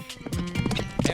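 Horse hooves galloping at a rapid, uneven clip-clop close by, loud and steady, during a mounted archery run with a brief whinny-like tone mixed in.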